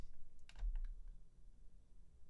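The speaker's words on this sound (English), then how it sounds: "Sinchint's been typing for a while." Soft, quiet typing on a computer keyboard during a coding session, with scattered key clicks in short bursts over a low room hum and no speech.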